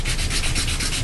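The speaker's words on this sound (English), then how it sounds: "I do want to sand this bottom a little bit more here." Steady, close sanding scrapes across the bottom of a model rocket, a continuous rough rubbing stroke with a faint back-and-forth pulse and no voices.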